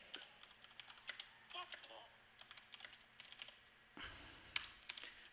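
Quiet, close typing on a computer keyboard in irregular bursts of keystrokes, with a short pause and a soft thump before the typing resumes.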